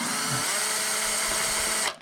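A power drill whines steadily at close range while marking a hole during an amp rack build, a continuous high-pitched drone that cuts off abruptly near the end.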